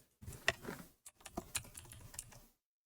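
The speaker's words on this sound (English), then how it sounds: "let's type in his name" A name is tapped out on a computer keyboard in a short run of quick, uneven keystrokes, close and fairly quiet, followed by silence.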